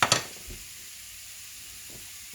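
Peppers and onions for a cheesesteak sizzle in a crowded pan with a steady low frying hiss, with a few sharp stirring clatters at the start and end, close by.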